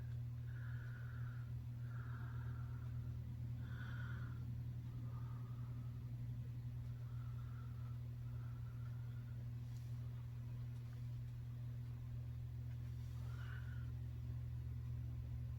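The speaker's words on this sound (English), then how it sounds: "if you hear the really loud noise in the background, that would be either garbage or recycle" A garbage or recycling truck idles nearby outdoors, a heavy, steady low rumble throughout, with a few faint higher whines and squeaks rising over it.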